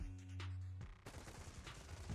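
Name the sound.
gunshots in a video game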